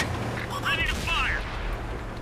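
Tank gun fire in a World of Tanks-style video game: a quick burst of sharp shots with a whining mechanical sweep, moderately loud over a low rumble.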